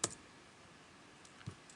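Light clicking of a computer keyboard, with a few sparse, faint keystrokes spaced out across a quiet stretch and no voices.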